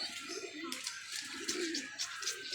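Pigeons, including Holland pigeons, coo in low throaty murmurs while grain is scattered for them, a close flock calling repeatedly over a bright steady hiss.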